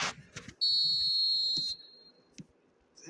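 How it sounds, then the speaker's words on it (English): A sustained, loud referee's whistle blast of about one second signals kick-off in eFootball 2026, with quieter game-crowd noise and brief thumps before and after it. "There's the whistle."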